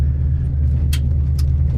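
A lowered truck rolls over a corduroyed dirt road, giving a loud, steady low rumble of engine and tyres with a couple of brief rattles and clunks from the bumps, and no talking.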